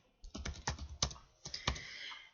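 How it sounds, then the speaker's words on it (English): A patient's name typed on a computer keyboard in a dental office, a short burst of about ten close, soft key presses in an uneven rhythm. "type in our patient's name"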